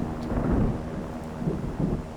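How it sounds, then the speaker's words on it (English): A low, rumbling thunderstorm in the submarine game Silent Hunter 3, with continuous dark rolling thunder and a hiss of rain filling the whole stretch at a fairly loud level. "We even have a thunderstorm rolling in"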